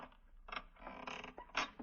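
A locked wooden dresser drawer is forced open with a screwdriver, giving several close creaks and scraping groans in short bursts, rising in strength toward the end.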